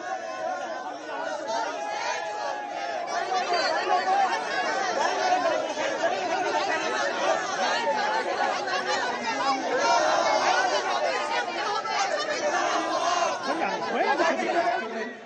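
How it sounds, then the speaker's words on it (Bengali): A Congress protest procession crowd moves out from Subodh Mallick Square, giving a dense, steady wash of many voices chattering at once. The crowd noise stays loud and continuous throughout, with no single voice standing out. "সুবোধ মল্লিক স্কোয়ার থেকে মিছিল।"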